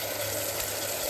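Onion and spice paste frying in a pan for a Bengali dish, a steady broadband hiss and crackle of oil held evenly throughout, alone with no voices.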